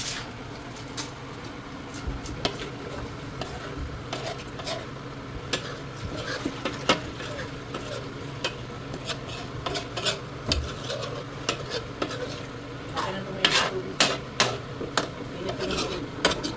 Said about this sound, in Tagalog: lalagyan natin ng sabaw na mainit para pakuluan pa natin ito guys